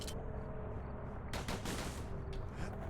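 Pistols fire in the action game Bastion, giving rapid, repeated shots over a dense background of game sound, with a couple of bursts standing out loudest and no talk.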